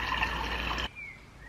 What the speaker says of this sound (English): I'm actually going to fill up my hot water bottle with some water from the tap